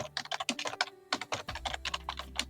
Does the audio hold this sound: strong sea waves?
no